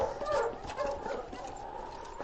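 Huskies pulling a sled team in the Yukon, heard as yips and whimpering barks over a steady wash of noise, with a voice shouting over them.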